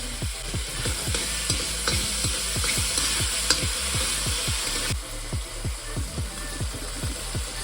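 Tomatoes and onions fry in oil in a pot under a steady, loud sizzle, with a rhythmic scraping of stirring repeating roughly every quarter second throughout, close and without talk.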